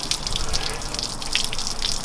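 Steamy water splashing and gushing steadily as it drains out of a car's cooling system into a container, a continuous close rushing hiss with no talk.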